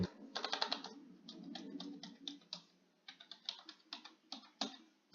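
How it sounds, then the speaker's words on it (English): Keys on a computer keyboard are pressed in quick, irregular bursts of soft clicks and taps, close up and quiet, with a brief lull midway before the tapping resumes. "I'm literally pressing every single button on the keyboard, with the exception of WASD"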